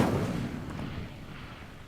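Fire spell cast in the Hogwarts Legacy video game, a loud burst that fades into a low rumbling whoosh over about two seconds, with no voices.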